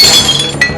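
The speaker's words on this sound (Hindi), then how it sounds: "तभी कांच तोड़कर सोनिया अंदर घुस गई" Car window glass smashed in an animated horror story, a single sharp loud crash of breaking glass with bright clinking shards, brief and close with no voices.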